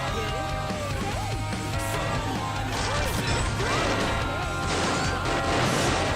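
Crazy Taxi video game car crashes, repeated smashing and thwacking impacts over a busy game soundtrack with engine whine and sliding tones, continuous and loud throughout.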